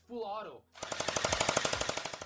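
Gel blaster toy gun firing a rapid full-auto burst of evenly spaced, snappy shots, fairly loud and close, right after a short spoken voice.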